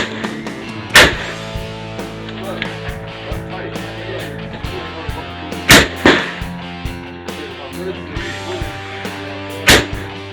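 Roughneck Firearms RF15 rifle fired at steel targets on an outdoor range: a handful of sharp, loud cracks at irregular intervals, two in quick succession, over a steady humming background.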